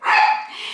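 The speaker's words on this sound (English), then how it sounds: "Dixie's going to bark at Daisy." A single loud, close bark from a dog named Dixie, aimed at another dog named Daisy.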